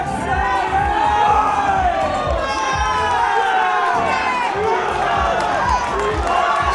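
A dense, loud crowd cheers and shouts continuously for boxer Zach Miller at a featherweight weigh-in, with whistles and yells rising over a steady roar and a voice faintly underneath.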